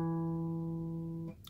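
A guitar's fourth string, fretted at the second fret to sound an E, rings as a single clean sustained note that fades slightly before being cut off.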